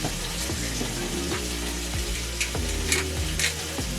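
Food searing in a hot pan, a steady close sizzle and crackle with scattered pops and spits throughout, no voices.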